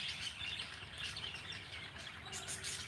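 Pet birds kept indoors chirp and tweet in scattered, faint calls over a steady background hiss.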